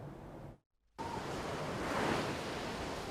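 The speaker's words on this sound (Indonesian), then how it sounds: "Hantaman gelombang setinggi 5 meter kembali menyebabkan air laut meluber hingga ke jalan raya." Big waves, about five meters high, crashing at Kuta Beach in Bali, a steady roaring wash of surf mixed with wind, loud and continuous after a brief gap of near silence.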